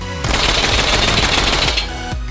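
A Mini Uzi in the VR shooter H3VR fires a long, rapid full-auto burst, loud and close, with a brief pause and another short burst following.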